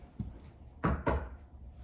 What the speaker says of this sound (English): knock on wood